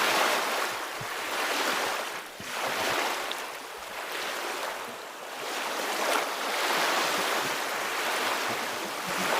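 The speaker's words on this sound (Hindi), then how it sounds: "वो सामने चारों तरफ समुद्र ही समुद्र।" Ocean waves at Kanyakumari, with sea all around, break and wash in broad swelling surges at a slow, irregular rhythm, loud and close, with wind noise over them and no talk.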